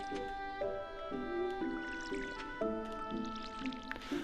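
A watering can splashes over crops in Stardew Valley farming gameplay: a steady series of soft, regularly spaced watery pours about every half second, heard over the game's tonal background music.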